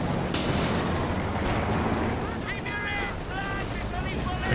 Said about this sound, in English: Finally, we do have a machine gun though from Noggano.